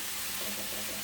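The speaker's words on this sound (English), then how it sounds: "So I do a little bit of stirring here" Turkey mince sizzles steadily in a small, crowded frying pan as it is stirred, a continuous close hiss and crackle with no talking.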